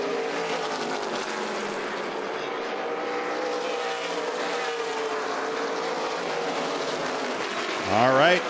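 ARCA Menards Series East stock cars roar past while racing through heavy lap traffic at Pensacola, a sustained droning engine whine that holds steady before a louder car sweeps close by at the end.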